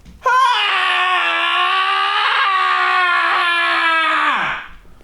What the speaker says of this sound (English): Just scream for a second